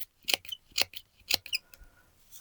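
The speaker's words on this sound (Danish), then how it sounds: "Beklager piveriet for min saks." Squeaky scissors snip through crepe paper in several close, sharp cuts, each with a thin squeal, then a few softer trailing snips.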